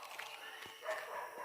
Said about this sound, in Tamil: யாரா நாய் பூரா கிளப்பி விட்டாங்கடா.